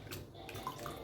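Dissolved tamarind water is poured into kalyana rasam with a faint, soft liquid splash and trickle, heard close and quiet.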